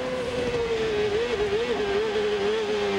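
A 1999 Honda-powered CART race car at Long Beach screaming at over 15,000 RPM, a loud, sustained high-pitched engine wail that wavers steadily up and down through the whole stretch, with no voices.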